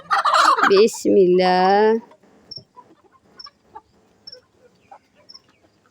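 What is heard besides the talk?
chickens clucking as they are let out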